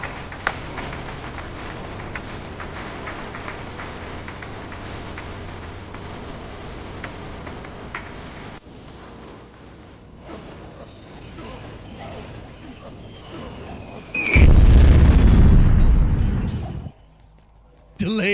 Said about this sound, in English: Delayed bomb.